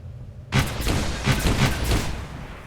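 Gunfire bursts from the video game XCOM 2 in a loud, sudden volley, a dense rattle of repeated shots with booming low thuds running steadily for about two seconds, then tailing off.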